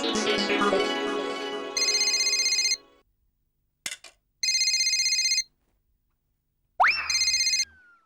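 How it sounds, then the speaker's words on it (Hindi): Outgoing phone call ringback tone in a Hindi sitcom household, three repeated electronic ring bursts with silent gaps between them, preceded by a brief musical sting and ending in a pickup click, with no talk over it. "ये बबीता जी को फोन करके खुशखबरी दे देता हूँ कि पेमेंट मिल गया है।"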